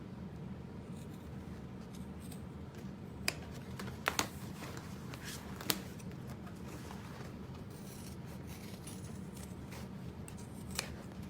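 Scissors cut fabric for a tote bag in faint, soft snips and rubbing sounds, with a few sharper clicks, over a quiet room hum.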